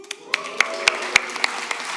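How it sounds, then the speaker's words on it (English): Audience applause for Patrick at a live Umbraco Codegarden 2025 session, a few scattered claps ringing out over a steady murmur, fairly close and moderately loud. "I'd like to hear a big cheer for Patrick"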